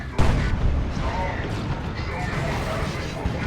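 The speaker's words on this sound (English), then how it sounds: "Looted tank shoots him in the face." A looted tank fires in the Dawn of War 2 strategy game, a sharp heavy boom followed by rumbling explosive blasts and crackle, with a commentator talking over the battle noise.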